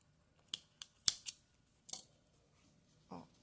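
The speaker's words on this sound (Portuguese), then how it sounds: "Vou cortar esse excesso de fio." Scissors snip excess knitted yarn (fio de malha) in a series of crisp close clicks, several quick cuts in a row with a softer rustle at the end, quiet otherwise.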